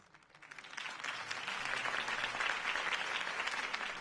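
Applause from a crowd swells up within the first second and holds steady, a dense wash of clapping heard at a moderate distance.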